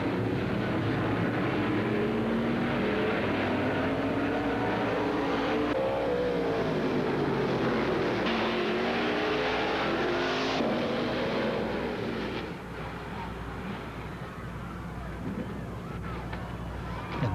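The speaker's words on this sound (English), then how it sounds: "And there you see Ronny McDowell's 119 in a spectacular crash" Ronny McDowell's No. 119 stock car crashes on the first lap at Beacon Hill Speedway in 1990. Loud, continuous engine roar from the cars fills the track, and it eases off late in the clip.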